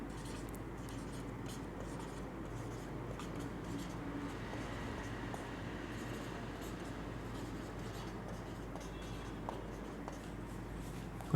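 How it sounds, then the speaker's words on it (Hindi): Someone writes on a board during a maths lesson, with steady scratching and short strokes that continue over a low, constant room hum, and no voices. "इसे लिख लें ऐसे"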